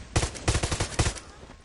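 Rapid SMG gunfire in Far Cry 6, two close, loud bursts of quick shots separated by a brief pause, with no talking over them.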